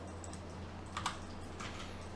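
Computer keys tapped for a Ctrl+Alt+C shortcut, a couple of quick light clicks close by, heard alone over a low steady hum.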